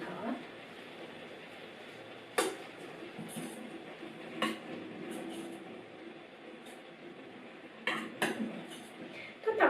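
Wild rice with tofu is stirred in a pot, giving scraping and clinking utensil sounds with occasional sharper knocks against the metal, under a steady kitchen background and some speech.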